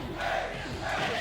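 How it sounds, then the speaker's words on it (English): A tournament crowd at a Street Fighter III: Third Strike top 8 at Texas Showdown 2025 roars and cheers in a dense, sustained wave of voices that swells briefly, loud and close, with no single speaker standing out. "This crowd has been absolutely hyped"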